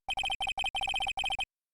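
In the Ace Attorney video game, a phone rings with the Steel Samurai theme ringtone, a rapid chiptune-like pattern of bright beeping notes in short bursts, loud and alone before stopping abruptly.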